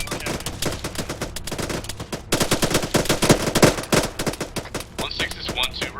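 Rapid machine-gun and rifle fire crackles throughout a military shooter game, dense overlapping bursts loud and close, with brief pauses and a voice speaking over the shooting.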